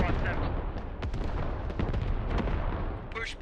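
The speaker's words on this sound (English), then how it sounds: "Artillery clearing out the point as the Turks push in" Artillery fire in a combat video game with Turkish forces attacking a desert fortress in Iraq: repeated heavy booms and blasts over dense battle noise, with someone talking over the action.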